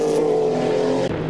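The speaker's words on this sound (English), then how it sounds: "Hotchkiss and Jeanette up front in two very different types of Porsche-based race cars" Porsche-based race cars, a 962 and a Kremer Porsche K8, racing at a historic event, a loud sustained engine drone passing close with steady harmonic tone that drops sharply near the end.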